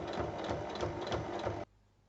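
A sewing machine runs steadily, stitching 1 mm from the folded edges of a fabric rectangle for a round drawstring pouch, with a fast even rhythm that stops abruptly near the end, leaving quiet room hum.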